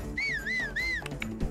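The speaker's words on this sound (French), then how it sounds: "Essaye de siffler pour l'attirer." Link whistling in Zelda Breath of the Wild, a clear tuneful whistle rising and falling in two long phrases, followed by a couple of short game sound effects.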